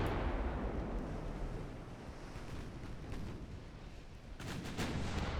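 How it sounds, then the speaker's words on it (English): Secondary guns on warships fire during a naval battle in the game Ultimate Admiral Dreadnoughts, with dense rumbling gunfire and sharp booms layered over a steady roar of sea and wind, a cluster of louder shots near the end. "we are scoring good hits with those secondary guns."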